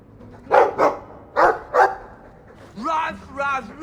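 A dog in the video game Dragon Age 2 gives four short, loud barks in two quick pairs, followed by a moment of a character speaking.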